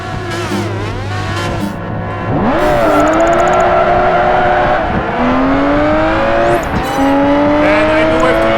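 A Caparo race car in a Project Gotham Racing 4 street race revs hard and climbs through gears with rising engine whines and shifts, with brief tire squeals, loud and close throughout.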